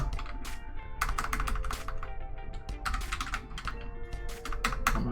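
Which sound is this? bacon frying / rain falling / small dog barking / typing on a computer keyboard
typing on a computer keyboard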